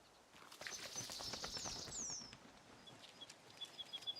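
A bird flaps and chirps in a forest survival game, with a fluttering burst of wings, high tweets and a brief whistle over a soft wooded background, followed by scattered faint chirps.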